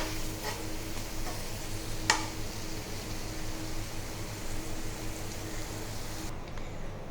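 A spoon stirs aloo palak, a potato and spinach curry, in a pan with a quiet steady sizzle underneath, one sharp clink of utensil against metal, all faint and without voices.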